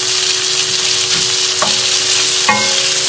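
Sausages fry steadily in a pan with chilli pesto, a loud continuous sizzle up close, broken by a couple of brief clicks and scrapes as the pan's contents are moved.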